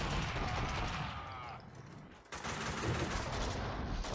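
Dense, continuous gunfire from the video game Max Payne 2, loud bursts running steadily with a brief dip midway before resuming at full intensity.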